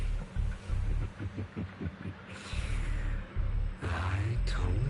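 A rapid heartbeat effect in the video game Zenless Zone Zero, made of deep, quick, throbbing pulses that stop and start in short runs, with an airy rising swell and some voice in the background.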